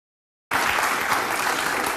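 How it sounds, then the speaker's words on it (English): A studio audience applauds loudly and steadily, the dense clapping bursting in suddenly after a moment of silence and holding at full strength to the end. "the people he's got in there in the audience, is clapping constantly for Byron and like loudly cheering for him"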